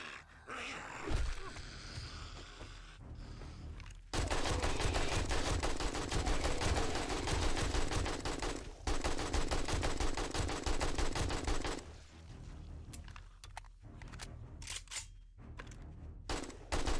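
Rapid automatic gunfire from a gun in the survival game 7 Days to Die, loud and sustained in long bursts with brief pauses, alongside other game sounds.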